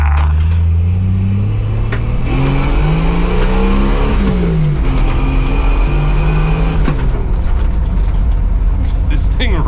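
A Jeep Wrangler YJ engine drones loud and steady while driving, its pitch rising and falling through gear changes and revs over nearly ten seconds of continuous road noise.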